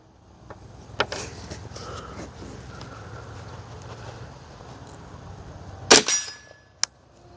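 A Ruger rimfire fitted with an Anechoic X22 suppressor fires a single sharp, muted crack, with a smaller click-like report shortly after, set against a steady low outdoor background.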